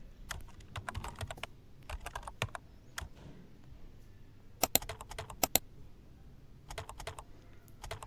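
Close, fairly quiet typing on a computer keyboard comes in quick bursts of keystrokes separated by short pauses.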